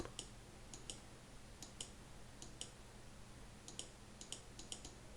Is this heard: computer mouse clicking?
yes